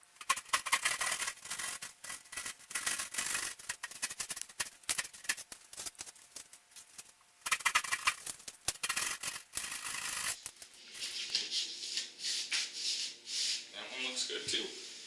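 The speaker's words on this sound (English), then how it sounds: "I'm going to go ahead and use my drywall saw," A handheld drywall saw rasps back and forth through damaged drywall in quick, scratchy strokes, loud and close, pausing briefly midway before the cutting resumes, then giving way to quieter handling noises.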